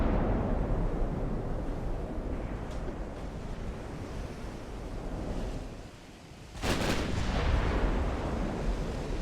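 Warship guns in the naval battle game Ultimate Admiral Dreadnoughts: a steady roar of sea and wind, broken near the end by one loud, sharp cannon blast that swells back into the rumbling background.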